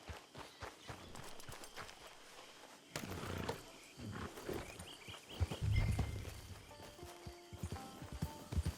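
Horse hooves clip-clop in Red Dead Redemption 2 Online, with uneven walking beats under game music and ambience, a louder thud cluster midway and scattered steps toward the end.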